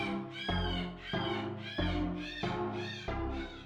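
A sick cat in the video game Angels of Death gives a run of six loud, drawn-out meows in steady succession, each rising then falling, close and clear with no talking.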